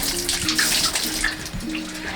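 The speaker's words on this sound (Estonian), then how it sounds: "Nii, aga pesen käed tere puhtaks." Steady running water splashes over hands being washed in a smoke sauna, a continuous close wash of rushing water with shifting splatter and no talking.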